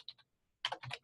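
Quick bursts of keyboard typing on a computer keyboard, close and fairly loud, with a couple of light taps, a short pause, then a denser run of keystrokes.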